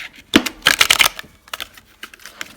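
Tall tarot cards of stiff, slightly cardboardy cardstock being shuffled close up, a quick burst of crisp riffling clicks followed by scattered lighter taps as the deck settles.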